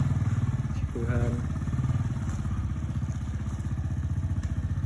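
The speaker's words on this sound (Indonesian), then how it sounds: "Wah, bisa naik motor." Motorcycle engine running steadily and close, a continuous low throbbing rumble as it is ridden at a home in Purbalingga, with a voice speaking briefly over it.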